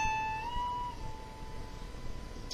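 A guitar note picked at the 17th fret and bent up a whole step, a single sustained tone that rises and then rings steadily, soft and unaccompanied, slowly decaying.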